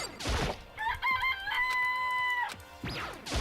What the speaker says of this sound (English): This place even has chickens, huh?